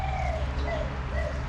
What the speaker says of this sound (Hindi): कितनी सही आवाज़ आ रही है चिड़ियों के इन सब की